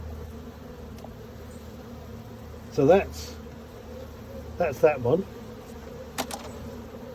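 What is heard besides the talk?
bees and wasps buzzing around skep hive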